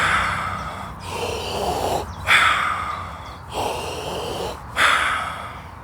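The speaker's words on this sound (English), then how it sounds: "the breathing exercise itself is a circular breath, which means that there's no pauses between the in and out breath" Deep circular belly breathing with no pauses between breaths, long airy inhales flowing straight into strong, noisy exhales, repeating in a steady, close rhythm.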